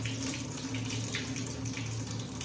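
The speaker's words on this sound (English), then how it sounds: "Time to wash the ginger" Tap water runs steadily into a sink while ginger root is washed for Jamaican sorrel. The flow is loud, close and continuous, with no talking.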